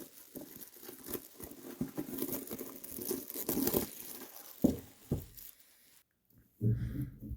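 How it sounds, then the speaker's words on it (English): Shrink wrap is torn and crinkled off a thick cardboard GMT Games box for The Last Hundred Yards, heard close up as dense crackling, rustling plastic for about six seconds, then a brief pause and a final soft crumple. "here we go, ripping the shrink"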